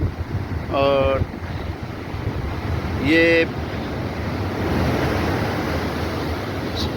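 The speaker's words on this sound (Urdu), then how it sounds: "کتنی فٹ اونچی لہریں جو ہیں وہ آ رہی ہیں" High, rough sea waves at Hawks Bay, Karachi, during a storm, a continuous broad roar of surf with heavy wind buffeting the microphone, loud and near, with someone briefly speaking over it.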